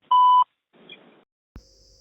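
A single loud, steady electronic beep from an automated IVR phone line, cutting off cleanly, then a short burst of faint noise and a click before a quieter tone; no speech.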